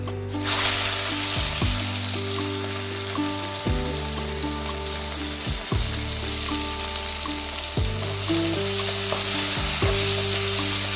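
Chopped onion sizzles steadily in hot oil with mustard seeds in a pan while cooking a Tamil-style scrambled egg curry; a continuous bright frying hiss runs throughout, with stepping melodic background music underneath.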